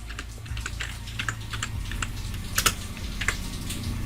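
Quick, irregular clicking of a computer keyboard as a layer is renamed in Illustrator, close and fairly loud over a low steady hum.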